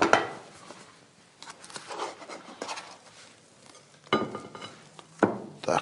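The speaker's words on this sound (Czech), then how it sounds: "Teďka se pokusíme ji vysypat rovnou na talíř." Baked omelette tipped from a baking dish onto a plate in a kitchen, with scattered clinks, scrapes and knocks of dish and utensils, a few sharper taps toward the end.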